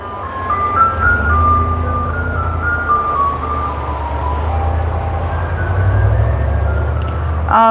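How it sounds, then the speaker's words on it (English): An ice cream truck's jingle plays steadily outside, a looping tinkly melody over a low rumbling engine drone, fairly loud and continuous throughout. "that ice cream truck just doesn't want to go away"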